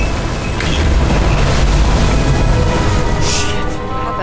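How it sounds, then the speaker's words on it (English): A deep, rumbling boom fills a futuristic video-game scene as fuses blow out in New York 2329, a loud sustained roar with a short burst near the end, no voices. "The fuses just blew."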